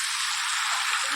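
Spiced meat sizzles in a pan while being sautéed, a steady close hiss of frying that runs unbroken through the brief moment, with a faint voice underneath.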